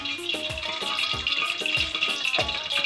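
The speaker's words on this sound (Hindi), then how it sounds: "उसके अंदर हम ये जो हमारी सब्जियां हैं, गोभी है, आलू है और गाजर है, इसको हम थोड़ा थोड़ा फ्राई कर लेंगे।" Cauliflower, potato and carrot fry in oil in a kadhai, giving a loud, steady close-up sizzle with rhythmic scraping strokes of a spatula roughly every half second, and no voices.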